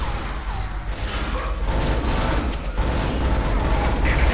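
Rapid gunfire from the video game Scourge: Outbreak, dense bursts of shots in a steady, loud, close barrage, with no talk over it.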